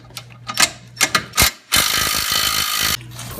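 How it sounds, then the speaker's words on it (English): Ratchet wrench clicking while tightening a bolt on a Volkswagen Jetta suspension being lowered: a few separate short ratchet bursts, then one longer continuous run of rapid clicks, close and fairly loud. "Now I'm just gonna tighten this one down here the rest of the way."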